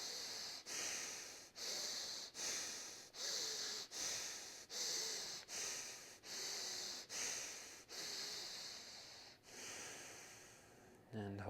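Someone draws a series of deep, slow breaths through the nose, close and quiet. Each inhale is a long, airy rush separated by short gaps.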